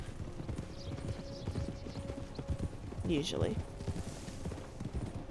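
Horse hooves clip-clop in a steady trotting rhythm while riding in Red Dead Redemption 2, with a brief whinny midway and someone talking over the top.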